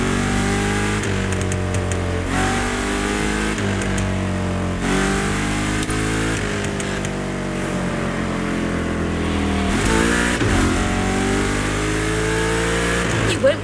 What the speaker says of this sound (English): You'll start your voyage into the past with a smooth ride behind the wheel of a Cadillac Eldorado